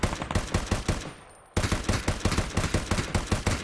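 LVO rifle fire in the shooter game Ring of Elysium, rapid loud cracking shots in a fast regular rhythm, a brief pause, then another long string of closely spaced shots, with no talking.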